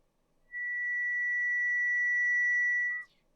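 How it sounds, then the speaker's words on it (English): Self-oscillation from a VST plugin with its feedback pushed up gives a steady, high-pitched sine-like resonant tone. It holds at a constant loud level for about two and a half seconds, then cuts off abruptly with a small chirp. "You can hear that high pitch resonant tone that creeps in, and that's the plugin that starts to self-oscillate"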